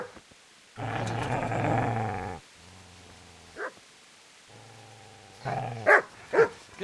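A dog growls in the video game Kingdom Come: Deliverance, with two long, loud, close snarling growls broken by short pauses and a few sharp yips at the end.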